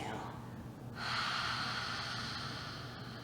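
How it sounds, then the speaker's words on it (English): A slow, deep exhale from a guided breathing exercise in a youth yoga session, rising into a steady, soft breathy rush after a quiet moment and holding close and even to the end. "And exhale."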